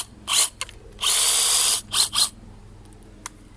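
A long reach hedge trimmer whines in short bursts, revving loud and close for under a second, then for a longer sustained stretch, then two quick blips before fading to near quiet.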